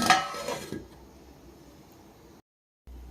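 A quick metallic clatter as a lid is set onto a cooking pot of eggplant curry, a short close clink at the start followed by faint low kitchen hum and a brief dropout.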